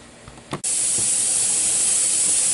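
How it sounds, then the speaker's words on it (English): Pressure canner starts venting steam with a sudden loud, steady hiss that keeps going strongly after a brief sputter, close by and alone. "You can actually see our steam starting to come out."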